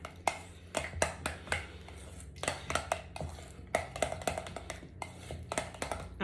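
A utensil stirring tzatziki sauce in a bowl, with a steady series of light clinks and scrapes against the bowl at an uneven rhythm, close and fairly quiet.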